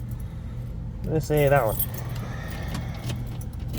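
A bunch of keys jangles briefly in a car at a drag racing event, a short metallic rattle over engine hum; someone talks over it.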